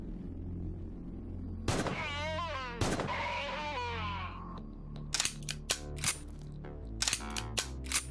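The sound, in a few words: gunfire from a gun in the video game Quasimorph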